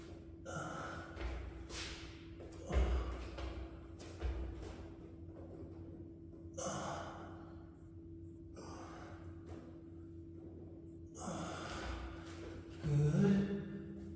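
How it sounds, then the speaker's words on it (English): Slow, deep breaths drawn in and let out during a yin yoga session, several soft separated inhales and exhales spaced a few seconds apart in a quiet room. "Breathe in, breathe out."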